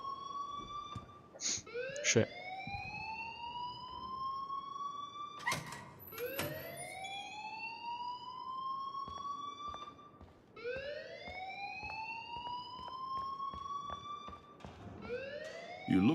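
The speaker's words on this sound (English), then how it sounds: "please turn off that alarm since that's your job" An alarm wails in the video game Life Is Strange, its rising electronic sweeps repeating every few seconds amid sharp beeps and clicks, loud and steady, with a brief spoken word heard once.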